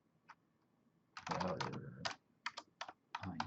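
Someone types on a computer keyboard while entering router OSPF configuration commands in a networking practice lab. A single key tap comes first, then quick clustered runs of clicks with short pauses. A voice speaks faintly in between.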